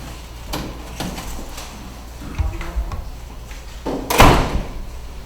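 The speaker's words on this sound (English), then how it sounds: "let me close this door." A door is shut inside a home in Cuba, giving a few light knocks and rattles, then a single louder thud as it closes, heard fairly near against a faint room hum.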